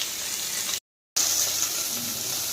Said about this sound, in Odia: ମାଛ ସବୁ ଭାଜିବା ପାଇଁକିନା ରଖିଦେଇଛି